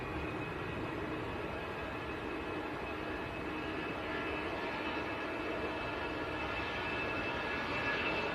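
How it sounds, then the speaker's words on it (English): Airbus A319 airliner departing Manchester Airport, a steady broadband jet engine roar heard from a distance, holding constant and swelling slightly toward the end. "this A319 just nipping down to Paris"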